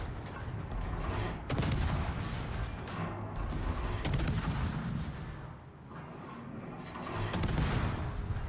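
Warship guns firing armor-piercing shells in World of Warships, booming salvos and bursts of gunfire over a rumbling battle backdrop, several sharp blasts spread across the stretch, no speech.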